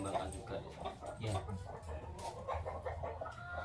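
Several red hens resembling laying chickens cluck repeatedly at a livestock farm, a steady close chorus of short calls with people talking over them.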